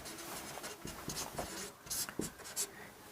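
Pen or chalk scratching out a right-triangle solution for a class 10 height-and-distance maths problem, with short quiet strokes and taps spread irregularly through the stretch, faint and close with no talking.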